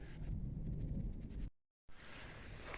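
Thunder from an approaching storm rolls over an old early-1900s coal mine site: a dense, low rumble with windy outdoor noise, broken by a momentary dropout before the roar resumes.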